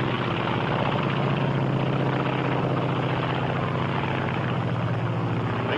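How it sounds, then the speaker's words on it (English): A Japanese Zero fighter plane's engine drones continuously and loudly, a dense, steady roar with a rapid propeller-like pulsing throughout, as though the plane is passing close or cruising nearby. "This is the Japanese Zero."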